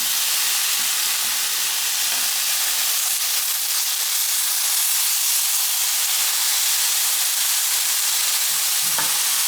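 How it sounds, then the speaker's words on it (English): Vegetables simmer in a Caraway pan, giving off a loud, steady hiss and sizzle that holds without a break, with faint clinks now and then. "I'm simmering some veggies, just simmering them a little bit for digestion"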